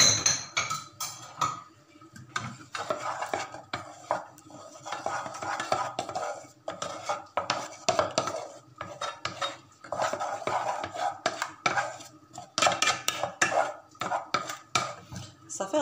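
A spoon scrapes and knocks against a bowl while melted chocolate is stirred with caramel-flavoured yogurt for a chocolate bûche, giving continuous irregular clinks and scrapes close by, with no voices.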